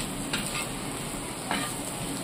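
Egg bhurji masala sizzles steadily in a pan over low heat, with a few soft scraping stirs of a spatula cutting through the continuous frying hiss; close, no talking.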